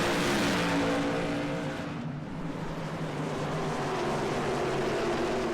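Whelen modified race cars in iRacing roar together on the restart at Thompson Speedway in Connecticut, engines climbing through the gears in a dense, continuous snarl, with a brief dip around two seconds before the pack noise resumes.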